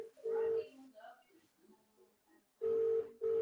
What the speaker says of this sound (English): It's ringing. It's ringing.